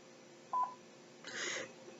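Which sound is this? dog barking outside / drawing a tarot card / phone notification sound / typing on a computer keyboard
phone notification sound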